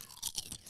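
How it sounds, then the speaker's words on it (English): Fried crab chips being eaten up close, with three or four crisp, bright crunching bites in quick succession. No talking is heard. "They've got a real crunch to them."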